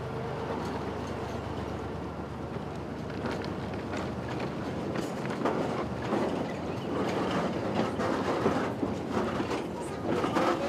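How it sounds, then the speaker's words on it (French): A long freight train rolls past in rural Benin, with a steady rumble and rhythmic clacking of wagons on the rails that continues throughout and grows slightly louder toward the end, with wind noise and faint voices. "Après plus d'1 heure d'attente, le train de marchandises passe enfin."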